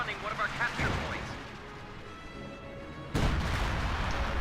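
Shells from a Priest self-propelled gun in a war video game pound a central house, each impact a heavy booming crash, with one big hit standing out, under steady battlefield noise.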